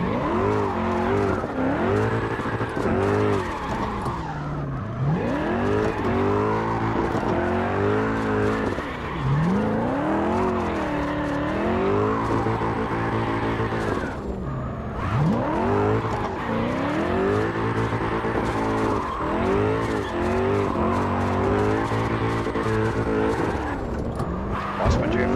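A car drifts in the video game CarX Drift, its engine revving up and down continuously while tires squeal through long slides, loud and constant for the whole stretch.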